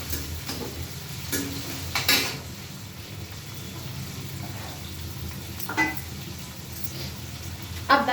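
Onion and green chili frying in a pan in a home kitchen, a low steady sizzle with a few light clinks of a utensil against the pan, fairly quiet and close.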